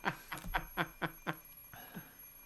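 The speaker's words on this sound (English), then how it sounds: "I stare at the alarm clock for several seconds. Shutting it off, I decide to get out of bed." A video game alarm clock in Fate/Stay Night rings faintly, with six rapid, evenly spaced buzzing beeps followed by a softer trailing one, heard alone without talk.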